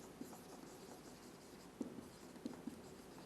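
Pen or chalk writing on a board during a chemistry lesson, faint scratchy strokes with a few small taps, quiet and close, with no talking.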